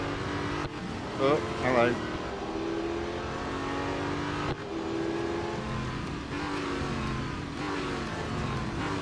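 A race car engine in the Real Racing 3 video game drones and revs as the car slides through S-bends, the pitch rising and dipping continuously, while someone speaks briefly over it.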